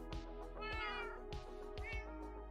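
Cats in Minecraft meow repeatedly for attention, four or five clear, close mews in quick succession over a faint steady background hum.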